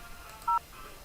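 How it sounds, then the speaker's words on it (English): A single short touch-tone beep sounds on a 3CX phone system handset while a number is dialed, faint and brief against a quiet background. "I would just dial the cell phone number again."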